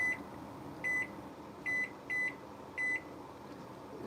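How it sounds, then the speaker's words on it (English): A microwave beeps as buttons are pressed to set its timer, five short, clean electronic tones at uneven intervals over steady room hum, close and clear with no talking. "So we're gonna set a timer."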